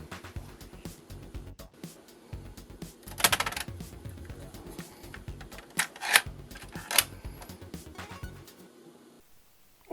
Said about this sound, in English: let's get this into a tape drive